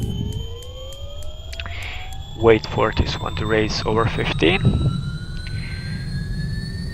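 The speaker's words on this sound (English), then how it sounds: "Propeller lever all the way forward, throttle lever is good, and then we start this engine." A propeller aircraft engine in X-Plane starts up, its whine climbing steadily in pitch beneath someone speaking over it, with a faint rhythmic ticking early on and a constant steady hum behind.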